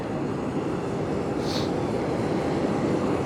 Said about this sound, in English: There's a nice jet.